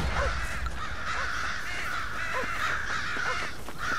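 Crows cawing around a farm silo in Red Dead Redemption, several harsh caws scattered over a steady dense wash of ambient game noise, moderately loud and overlapping, no talking.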